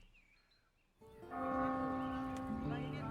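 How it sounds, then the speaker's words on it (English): A bell rings out at day's end in the village-building game Norland, its sustained tones swelling after a quiet opening and hanging over a soft ambient background, with no talking. "I guess that bell indicates the end of the day."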